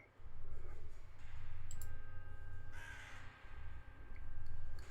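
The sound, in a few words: large raven calling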